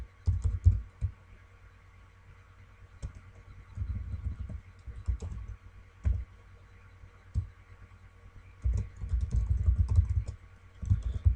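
Keys clatter on a computer keyboard as an email address is typed, coming in short bursts of soft clicks with brief pauses between them, close and quiet, with no talking.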